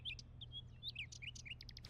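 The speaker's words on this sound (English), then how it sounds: "It is a bird. A nightingale." A nightingale sings outside at night, a run of quick high chirps, whistles and trills heard faintly at a distance over a low steady background hum.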